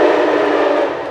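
A train passing close by, a loud, steady roar of rolling rail noise that fills the whole moment and fades slightly toward the end, with no talking.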